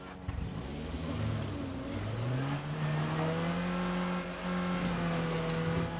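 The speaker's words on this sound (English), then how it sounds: "While the engine's turning on" A video game car engine runs with a steady, rising mechanical drone and a slight revving swell, heard alone for several seconds at moderate distance.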